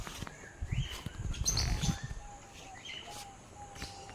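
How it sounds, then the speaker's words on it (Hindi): Parrots call in a tiger reserve, with several bright chirps and whistled notes scattered over rustling, breathy ambient noise, some calls near and others farther off. "ये रहा पैरोट और पैरोट का बच्चा तोता, छोटी तोती।"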